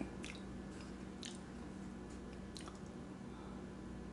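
Someone bites and chews a low carb, sugar-free keto brownie with chopped walnuts, giving soft, close, moist squishing and a few crisp bites over steady background hum, with no talking.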